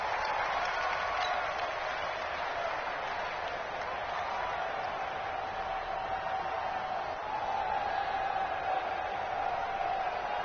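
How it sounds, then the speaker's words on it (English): A stadium crowd in a football video game on PS4 gives off a steady, distant roar that holds at an even level throughout. "The crowd getting into it as we come up on a big 3rd down"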